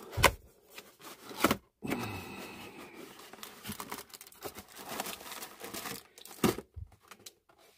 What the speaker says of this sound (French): d'abord on va assister au déballage.